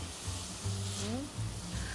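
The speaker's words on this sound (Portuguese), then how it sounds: "Ó, dei uma leve mexidinha aqui." Shredded salt cod sautés in a pan while being lightly stirred, giving a steady soft sizzle with faint scraping, close and fairly quiet, with a voice murmuring briefly underneath.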